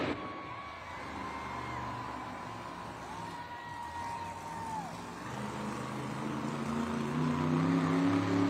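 A Monster Jam arena crowd in Denver gives a sustained, distant wash of cheering and noise that builds slightly toward the end, with engine hum and a faint announcer-style tone underneath.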